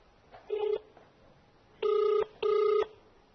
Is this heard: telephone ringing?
yes